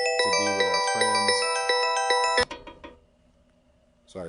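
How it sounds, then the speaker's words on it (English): A phone ringing during a recording, a loud melodic electronic ringtone repeating its chiming pattern twice before stopping, leaving a faint fading tail and a brief noise at the end. "Phone call right in the middle of this."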